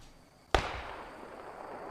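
A single sharp gunshot cracks out during a night trench battle in the World War II shooter Post Scriptum, a sudden loud report followed by a long, noisy decaying tail.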